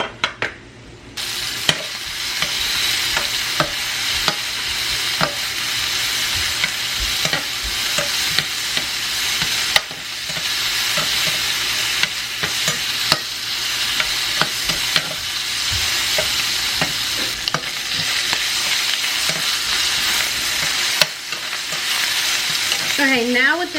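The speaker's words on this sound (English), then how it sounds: "we're going to start with 2 pieces of bacon diced. And we're just going to fry that up in the pan." Diced bacon fries in a pan with a loud, continuous close sizzle broken by regular stirring scrapes and utensil knocks against the pan.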